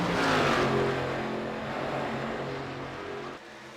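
Race cars roar past in a sim racing esports game, a loud sustained engine drone that peaks early and then fades slightly as the cars run down a straight, with no one talking.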